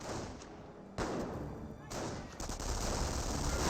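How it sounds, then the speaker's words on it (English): Artillery decoy barrage in Company of Heroes, a WWII strategy game: heavy booming thuds and rumbling blasts land in a few sudden surges, with a continuous battlefield roar between them and commentary talking over it. "Another decoy barrage being brought on in somewhere."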